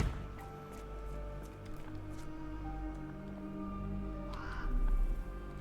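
Caged mynah birds in the Sherlock Holmes The Awakened game give harsh, croaking caws over a tonal, humming game ambience, with one louder squawk near the end.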